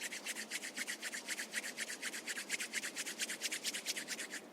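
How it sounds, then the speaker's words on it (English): Palms rubbing briskly together during a yoga class, a quick, steady series of soft swishing strokes, close and fairly quiet with no talking. "Rub your palms together."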